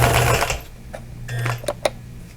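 A sewing machine winds a bobbin with a loud whirring motor run that fades, then a second shorter whir followed by a few sharp mechanical clicks and taps, with no one talking.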